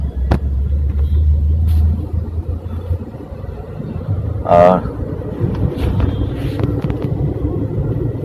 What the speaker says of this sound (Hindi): इक्का दुक्का जो गाड़ियां हैं वो चल रही हैं